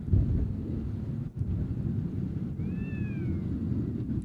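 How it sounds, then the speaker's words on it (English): A cat calls outdoors at night near an airfield, one drawn-out wavering meow rising and falling against steady wind and low background rumble, fairly distant and faint. "I think there's a cat over to our left, either having a very good time or a very bad time"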